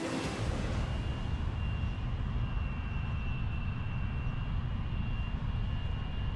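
Jet aircraft engine in a video game, a loud, steady roar with a sustained high whine held throughout, no voices.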